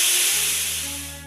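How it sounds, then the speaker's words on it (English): A steam engine hisses loudly and steadily, a broad rush of escaping steam that holds throughout with low tonal hums rising beneath it and slowly easing off, with no voices. "That sounds like a steam engine."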